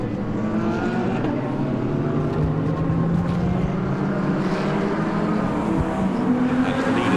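GT World Challenge Asia race cars at Suzuka charge toward the end of the lap, their engines a loud, continuous roar with overlapping tones that rise and fall as several cars pass close by, with no talk.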